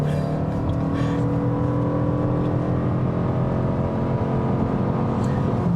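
A 2025 Toyota Crown Signia hybrid wagon floored from a standstill with the front tire spinning, giving a loud, steady engine and drivetrain roar that holds constant throughout with no talking.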